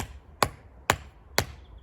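Three evenly spaced sharp knocks as a marker is hammered into a lawn seed bed outdoors, each strike close and loud against quiet surroundings.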